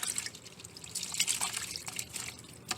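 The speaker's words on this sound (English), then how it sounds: "Throw your little microfiber towel in there and stir that up." A microfiber towel swishes around in a bucket of soapy water, with close, soft sloshing, dripping and trickling that goes on throughout.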